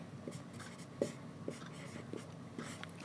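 Pen or pencil writing out a math problem on paper, a run of soft scratchy strokes and taps in an irregular rhythm, faint and close, with a quiet voice murmuring underneath.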